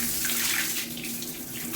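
Water poured into a toilet bowl during cleaning, a steady continuous rush and gurgle with broadband splashing throughout, close and moderately loud with no talk.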